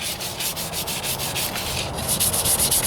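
Hand sanding of a Ford Ranger passenger rocker panel with 500 grit sandpaper, steady rhythmic back-and-forth rasping strokes, close and fairly loud, with no talking.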